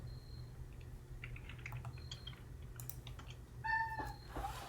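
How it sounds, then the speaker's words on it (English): A pet cat meows near a computer, one short nasal call rising out of a steady low hum, preceded by scattered soft keyboard typing clicks, fairly faint and with no talking. "What's my cat saying hello?"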